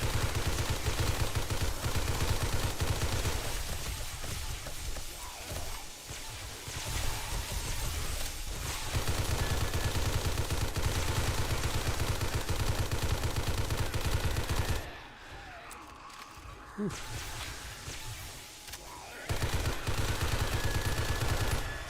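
Sustained heavy gunfire pours out during an intense Horde Night in a survival video game, dense and loud almost throughout, with a brief quieter lull midway before the shooting resumes at full force.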